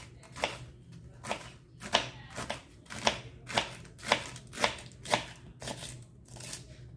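A knife chops through rolled collard greens on a cutting board in about ten crisp, evenly spaced strokes, close and fairly loud in a quiet room.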